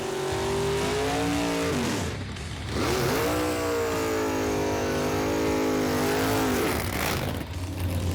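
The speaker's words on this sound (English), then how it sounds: "2 8-second Roadkill cars lining it up for the honor of the fastest car on Roadkill" Two Roadkill drag cars, eight-second machines, rev their engines hard at a drag strip starting line, loud rising and falling engine tones with a brief dip before roaring again and no talk over them.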